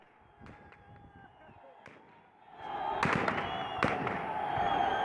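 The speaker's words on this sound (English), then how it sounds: "this sounds like automatic fire" Automatic gunfire cracks in the distance, a few sharp isolated reports at first, then a denser rattling cluster of shots over a rising crowd-like roar.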